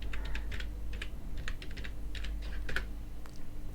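Keystrokes on a computer keyboard while typing a website name into Google Chrome, a quick irregular patter of clicks in short bursts with brief pauses, close and fairly quiet, with no talking.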